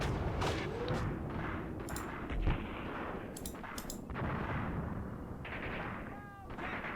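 Scattered tank cannon and gun blasts in the WWII tank game Tank Warfare: Tunisia 1943 at Longstop Hill, one heavy boom standing out among lighter distant shots over a continuous battlefield rumble.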